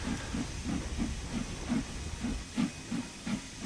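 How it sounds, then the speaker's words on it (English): In Train Sim World 3, the front safety valve of a Stanier Jubilee steam locomotive blows off with a constant hiss, over a slow, regular low chuff that pulses about three times a second as the engine comes to a stop. "The front safety valve is blowing loads of excess steam off possibly because I've slowed down"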